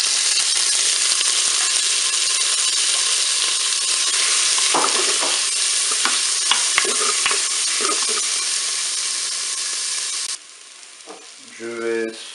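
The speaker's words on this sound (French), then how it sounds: "Mon huile est chaude, je vais pouvoir mettre mes crevettes." Shrimp sizzling and frying in hot olive oil inside a Cookeo multicooker, a steady loud hiss with scattered crackles and stirring clatters, fading near the end.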